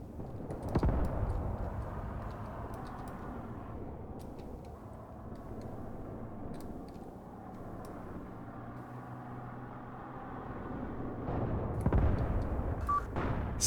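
Distant gunfire in the tactical war game Graviteam Tactics, sporadic sharp shots and a couple of heavier booms over a low rumbling battlefield, with scattered keyboard clicks throughout.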